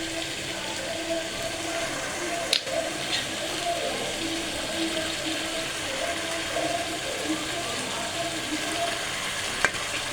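Chicken frying with masala in a pan, a steady sizzle with faint clinks of stirring and a couple of sharp utensil taps.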